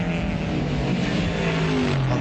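A Ford Falcon GTHO and a Chrysler Charger touring car race at Warwick Farm, heard as a loud, steady, close engine roar with droning harmonics and no break.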